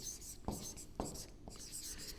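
Marker strokes on a board during a spoken English lesson, with three distinct scratchy taps about half a second apart. Quiet and close, and the teacher's voice is faint in the background.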